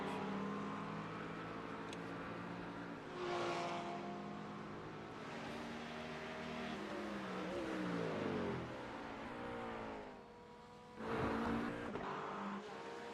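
GT3 race cars thunder around Brands Hatch at night, engines roaring loudly and continuously with rising and falling pitch as cars accelerate, shift and pass close by, one surging past near the end.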